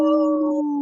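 Short sustained howl from people imitating wolves, a steady tonal wail with a second harmonic line fading after half a second, close and fairly loud with no other sound around it.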